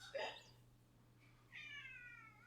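A pet cat named Luna Marie meows twice at close range, a short cry followed by a longer drawn-out meow, over a steady low hum with no talking.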